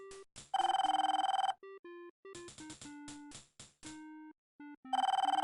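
Desk telephone in a police station office in the video game Police Quest: Open Season, ringing in bursts of electronic trills mixed with short tonal beeps, fairly quiet and with no voices.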